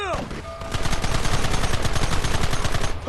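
Rapid gunfire in the Red Dead Redemption western video game, loud and sustained: a dense volley of overlapping shots and machine-gun bursts rattling steadily after a brief lead-in, with shouted battle voices mixed in.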